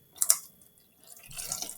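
Water poured from a narrow-topped bottle, a few quick splashy drips first, a short pause, then a steadier trickling pour, soft and close.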